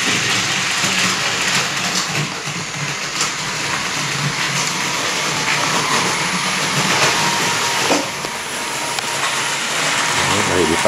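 A model TGV train on a home layout starts up and runs steadily, a dense continuous whirring rumble with rail clatter that stays fairly loud throughout, with someone speaking quietly underneath.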